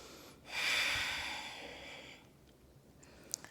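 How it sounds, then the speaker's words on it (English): One long, deep breath taken during a pause in a yoga and weight-training session: a soft, breathy exhale swelling up and slowly trailing off, quiet and close, followed by near silence and a small click. "And pause and breathe."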